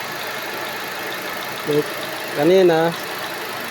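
A car engine runs steadily at idle throughout an operation check of the engine engagement, a low continuous hum with a brief spoken word over it.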